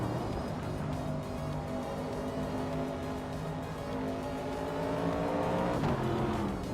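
A 1970 Chevrolet Camaro race car in a racing video game holds a steady, loud engine drone, with layered tones from other cars around it and a shift in pitch near the end.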